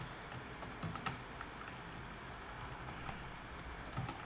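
A few quiet, sharp keystrokes on a computer keyboard while the cd command is entered, with isolated clicks spread over a few seconds against a low, steady background hum.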